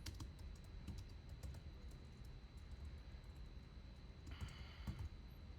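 A name being typed on a computer keyboard while preparing a drawing for laser cutting: quick, light key taps in short irregular runs, faint and close, with no talking.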